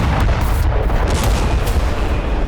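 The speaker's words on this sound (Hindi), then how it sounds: "ये ग्लाइड बम रिहायशी इलाके में गिरा" Russian FAB-500 glide bomb exploding in a residential area of Zaporizhzhia, a loud, dense, rumbling blast with crackling bursts that fills the whole moment without pause.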